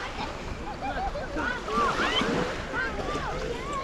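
Sea water washing along a crowded summer beach at Fano in mid-August, a steady soft surf hiss with faint distant voices and brief chirpy sounds scattered through it.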